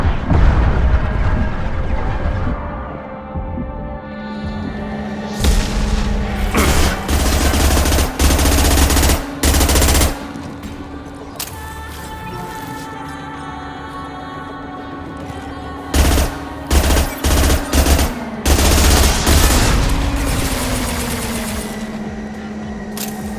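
Gunfire in the Mass Effect 2 video game, loud bursts of rapid automatic fire and sharp single shots over a low rumbling game backdrop, recurring in clusters throughout.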